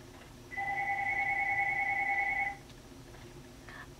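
A telephone rings once, a steady two-tone electronic trill lasting about two seconds at moderate volume, then stops before a faint hint of another ring at the end.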